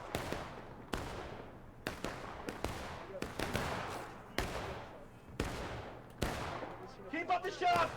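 Musket volleys crack out in a video game shootout on the Bloody Lane map, with about eight sharp shots at irregular intervals, each trailing off in a long echo, and a few quieter pops and voices near the end.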